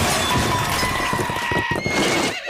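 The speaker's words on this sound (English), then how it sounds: "Gallop like the wind horse, Jimmy's in trouble!" A cartoon horse whinnies loudly and close, with the clatter of clip-clopping hooves running under the call across the short burst.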